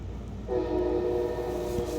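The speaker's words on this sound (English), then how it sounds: "Don't mind the train." A train horn sounds from about halfway in, a sustained multi-tone blast over steady low rail rumble, fairly near and loud, with no one speaking.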